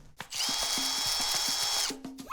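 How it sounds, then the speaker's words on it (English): A power drill bores holes into a watermelon, one steady high-pitched whine lasting over a second and a half, loud and close, with knocks and handling noises before and after. "Drill some holes."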